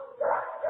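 A dog giving one short whining yip, close and brief, almost a whimper rising in pitch.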